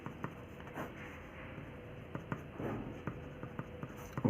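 A solution is written on a classroom board in steady close strokes and taps, with a rhythm of short scratches and knocks and no talking.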